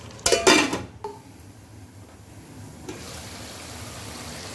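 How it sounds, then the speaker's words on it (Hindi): Chicken karahi sizzles on a high flame in a wok, opening with a loud scrape and clatter of a spoon against metal, then settling into a steady, soft frying hiss. "इसको अब हम भूनते हैं तेज़ आंच पर"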